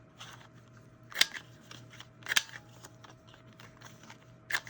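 Scissors snip the corners of old book pages in three sharp, close cuts spread across a few seconds, with soft paper handling and faint rustling between them in a quiet room.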